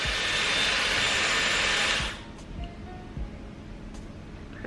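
A Dyson Airwrap hair styler blows a loud, steady rushing hiss for about two seconds, then cuts off, leaving quiet room tone with a few faint handling clicks.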